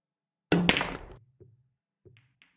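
Virtual pool ball potted in a VP4 tournament match, a sharp thunk of the cue strike and ball drop followed by a couple of soft, short knocks as balls settle, fairly quiet and alone.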